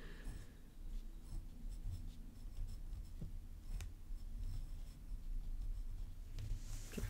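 A glass dip pen scratching across paper, its nib sanded smooth, heard as a faint, close, continuous scratchy writing texture with brief strokes and pauses, alone without talk.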